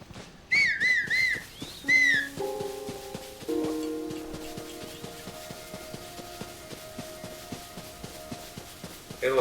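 Whistling in the video game Zelda Tears of the Kingdom, with several short rising whistle notes, then game chimes and a steady run of soft rhythmic footsteps.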